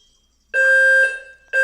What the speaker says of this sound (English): Yeah, it's a fire alarm.